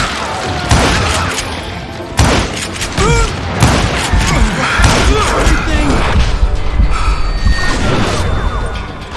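Dense Call of Juarez video game gunfight: repeated heavy gunshots, booming impacts and crashes in a loud, continuous barrage.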